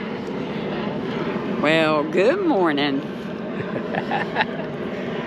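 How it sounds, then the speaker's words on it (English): A jet plane landing in Nashville roars steadily in the background, a broad continuous rumble under someone speaking close by. "Wouldn't you know there'd be a jet landing in"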